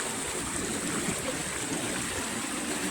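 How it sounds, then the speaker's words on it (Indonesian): Progo river flowing from a spring-fed source over hardened lahar rock, a steady broadband rush of moving water, continuous and fairly close with no voices. "Sungai ini dari mata air"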